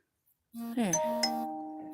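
A ding-dong notification chime from a device, a two-tone electronic bell sounding once with a clear ringing decay, close and fairly clean with no talk over it.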